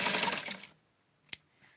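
A sewing machine runs in a short whirring burst while stitching doll clothes, then stops abruptly, followed by silence and a single sharp click.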